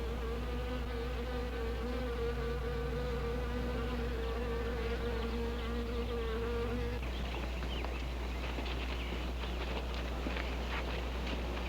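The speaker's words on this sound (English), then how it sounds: "Now look here, Zinthrop, what's all this nonsense about wasps?" A steady insect drone with a tonal whine for several seconds, then turning into a rougher, scratchier buzz, like a swarm of wasps, sitting over a low constant hum with no voices.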